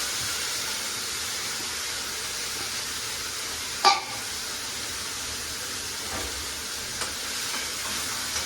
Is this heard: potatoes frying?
yes